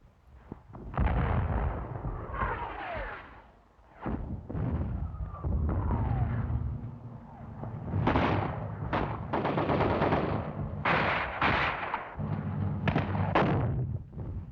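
Heavy wartime gunfire opening on a bunker: loud, sustained bursts of machine-gun fire and booming shots in repeated long volleys, with brief pauses between them.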